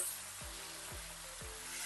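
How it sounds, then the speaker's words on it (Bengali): Green beans frying in oil with turmeric and salt give a soft, even sizzle, broken by three regular scraping strokes as they are stirred. "এবার হলুদ লবণটা ভালো করে শিমগুলোর মধ্যে মিশিয়ে নেব আর হালকা একটু ভাজা ভাজা করে নেব"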